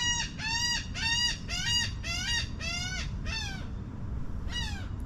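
A seagull calls again and again in a rapid series of harsh, rising cries, loud and close, with a short gap before one last burst over steady low outdoor background noise.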